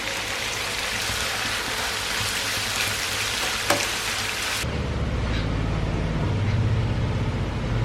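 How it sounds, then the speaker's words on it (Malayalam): Fish sizzling in a pan of ghee and olive oil, a steady dense crackling hiss that carries on without a break. Partway through, the tone changes, as if the pan were heard from closer or differently, and no one speaks. "അപ്പോൾ അപ്പുറത്തുനിന്ന് സൗണ്ട് കേൾക്കുന്നത് നമ്മുടെ മീൻ ഫ്രൈ ആവുന്നതാണേ."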